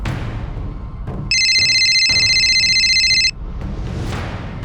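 A telephone ringtone sounds steadily for about two seconds, loud and close over a background of room noise, with no talking.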